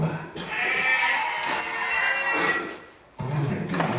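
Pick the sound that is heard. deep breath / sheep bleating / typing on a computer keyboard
sheep bleating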